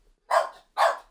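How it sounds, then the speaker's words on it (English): A dog named Ralph gives two sharp, close barks in quick succession, separated by a brief silence, loud and clear with no other sounds. "There's another dog barking."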